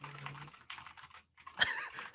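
Computer keyboard keys clacking in quick bursts of typing, with a brief pause partway through and a sharper cluster of keystrokes near the end, fairly close and moderately quiet.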